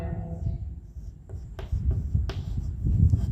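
Pen writing a notice on paper for a class 12 English grammar lesson, close scratchy strokes with a few sharper taps and rubs, a soft low background rumble underneath.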